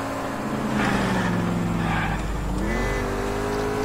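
Car engine droning steadily through a chase in the video game L.A. Noire, its pitch sliding down then rising again, with faint talk layered over it.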